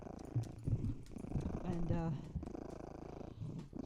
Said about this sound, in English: That's why she's purring like this.